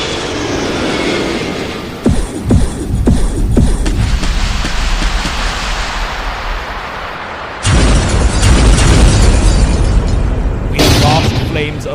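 A Redeemer tank is destroyed in a Warhammer 40,000 battle, with heavy, roaring explosion bursts crashing in twice over a continuous rumbling din.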